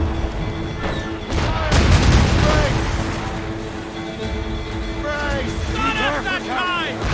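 Naval cannon fire from a sailing warship in Assassin's Creed Rogue booms amid battle din, with shouted voices and crew chatter layered over the rumbling volleys and crashing impacts.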